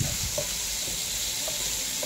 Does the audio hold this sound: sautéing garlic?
yes